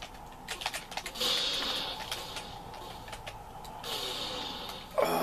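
Keys on a ZX Spectrum keyboard pressed repeatedly during play, a steady run of clicks and taps at moderate volume with a louder clatter near the end, no talk.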